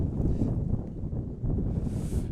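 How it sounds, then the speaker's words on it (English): Strong wind gusting across an open hilltop during an outdoor boys' soccer game, a continuous loud low roar buffeting the microphone with a brief lull in the middle before it surges again. "The gust picking up even more. Gotta love the wind on the hills"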